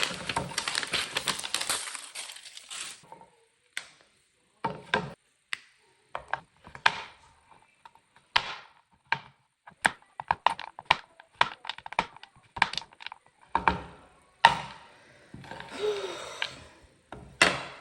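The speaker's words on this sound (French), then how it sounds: "on va couper cette tablette en petits morceaux" A knife chops through a chocolate bar on a cutting board, breaking it into small pieces with a run of sharp, irregular clicks and knocks, close and alone after a brief rustling start.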